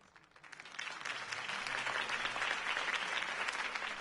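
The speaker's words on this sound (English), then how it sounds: "could have heard that applause" A crowd applauding after a campaign speech, rising from a few claps into a steady, full burst of clapping that holds to the end, moderately distant.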